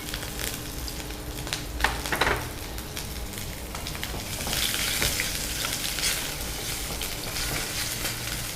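Green chilies splutter and crackle while frying in hot oil in a pan, a loud, continuous sizzle with sharp pops that swells toward the middle, close and without talk.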